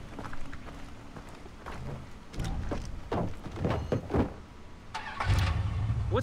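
A car driven in the video game Far Cry 3 rumbles along with a steady engine drone, rising with revving surges and a louder burst near the end, alone without talk.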